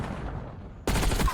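Gunfire in the multiplayer shooter Black Ops 6 cracks out as a sudden loud burst after a quieter stretch of muffled game ambience.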